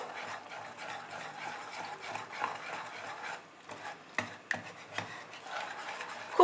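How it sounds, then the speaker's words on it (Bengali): Malpua batter being beaten with milk in a bowl for a Bengali sweet, a steady scraping, whisking rhythm close by with a few sharper knocks of the utensil against the bowl near the end, no talk. "খুব ভালো করে ফেটিয়ে নিতে হবে ব্যাটারটাকে।"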